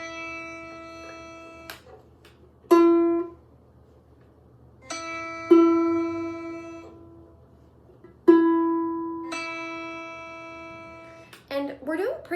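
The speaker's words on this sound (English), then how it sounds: "So mine's really out of tune, so I'll tune mine up while I play it." A ukulele E string plucked three times while being tuned up, each note ringing clearly and slowly fading, with the pitch shifting slightly between plucks and a brief strum at the end.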